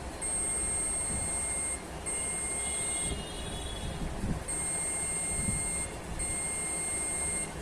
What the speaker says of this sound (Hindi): आप सुनिए बीप की आवाज।